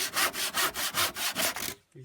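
A hand saw cuts through wood for a small boat build in about eight quick, even back-and-forth strokes, close and rasping, then stops.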